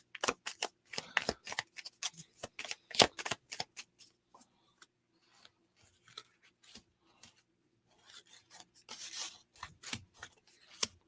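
Tarot cards being shuffled and drawn, close and crisp, with a rapid burst of riffling snaps followed by sparser slides, flicks and taps as cards are pulled, and no talk.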